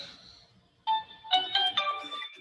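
A mobile phone rings during a lecture, a bright melodic ringtone with a few quick chiming notes, moderately close and heard alone.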